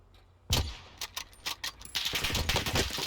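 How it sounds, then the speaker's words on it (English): Gunfire in the video game Warzone: a loud opening shot, then a few scattered single shots and a sustained rattling burst of rapid fire, close and crisp, with no talk. "Guys are pretty much just gonna have a shoot off."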